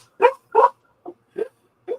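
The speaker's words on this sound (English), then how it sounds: "Control that dog." A dog gives five short barks and yips close by, the first two loudest and the rest softer, spaced out with quiet gaps between them.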